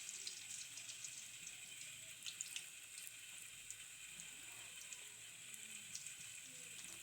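Cabbage pakora batter drops into hot frying oil, which gives a constant bright sizzle with a few small crackles and pops, close but fairly soft, and nobody talks.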